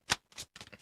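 A deck of tarot cards is shuffled at close range: one crisp riffle, then a second, longer one, followed by a soft, ragged rustle of cards settling, with no talking.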